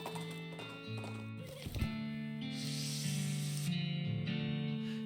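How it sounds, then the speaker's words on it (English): A horse struggles up a steep rocky ridge in the West of Loathing video game. Hooves clop and scrape and the horse whinnies, over a sustained tonal music bed with a hissing burst partway through. "You encounter a cowpoke trying to ride her horse up the 45-degree surface of a rocky ridge"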